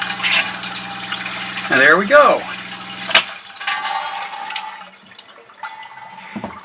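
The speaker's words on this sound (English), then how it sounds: "Pump some more pink antifreeze through." Pink antifreeze being pumped through the hot-water lines of an RV, a gurgling rush and sputter of liquid through the plumbing with a few clunks, while someone speaks briefly over it.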